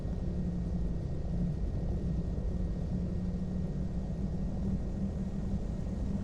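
Steady, even engine drone and propeller rumble of a PA-34 Seneca V twin-engine plane taxiing in Flight Simulator X, continuous and moderately loud with a low hum throughout and no talk.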